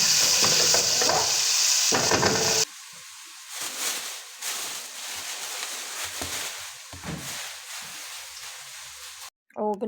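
Green beans frying in a pan in a home kitchen: a loud, bright sizzle that cuts off abruptly, then softer stirring, scraping and clatter with the hiss fading into quieter background.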